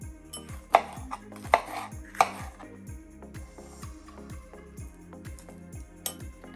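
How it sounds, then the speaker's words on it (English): A knife cuts through stacked cucumbers on a cutting board, a few sharp chops near the start, then quieter cuts over a steady repeating background beat, close and fairly soft. "Just going to slice these into quarters."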